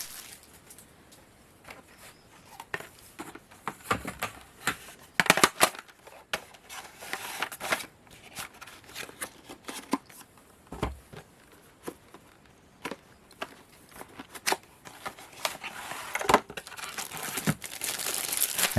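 A plastic bag holding a fake SNES cartridge is handled up close. It crinkles and crackles in irregular bursts, with sharper crunches scattered through a long stretch of fiddling.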